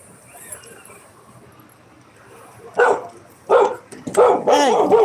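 A dog barks at someone walking past on the sidewalk outside a house, several loud close barks in quick succession after a quiet start.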